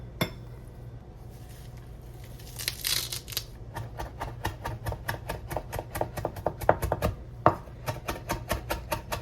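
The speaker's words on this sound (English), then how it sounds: "we'll go ahead and chop up our herbs" A knife chops a bunch of parsley and a bunch of cilantro on a cutting board in a steady run of crisp, close taps that start sparse and quicken into a regular rhythm, with no talking.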